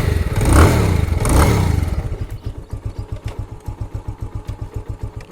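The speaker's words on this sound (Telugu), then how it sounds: "బండి స్టార్ట్ చేద్దాం." A motorbike engine fires up with a loud, swelling roar of two quick revs, then drops into a steady, chugging idle with an even, pulsing thump, close by and with no talking.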